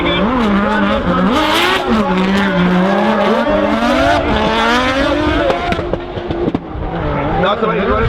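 Drift cars slide through a corner at Rockingham Speedway during a British Drift Championship round, engines loud and revving continuously with tyre squeal throughout, under steady commentary.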